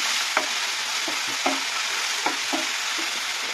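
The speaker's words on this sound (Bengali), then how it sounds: "দিয়ে এটাকে ভালো করে কষিয়ে নেবো" Onion and garlic paste sautéing and being stirred in a pan for a lote fish dish, with a steady sizzle broken by several distinct scraping strokes of a spoon, close and fairly loud, no voices.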